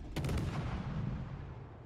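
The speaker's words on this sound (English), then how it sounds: "we're going to continue shooting just to see if we can't get a second fire" Naval gunfire from a warship, HMCS Huron in World of Warships: Legends, lands as one muffled, fairly quiet boom that rolls into a long low rumble.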